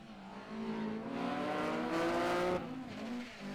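A BMW Compact rally car drives a stage at Snetterton, its engine note rising and falling through a sustained pass with a loud surge in the middle before easing off.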